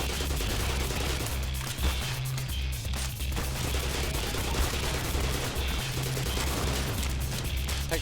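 Gunfire in the video game Black Mesa during the Surface Tension chapter, a dense, continuous battle of rapid shots and crashes over a droning game soundtrack, with no talk.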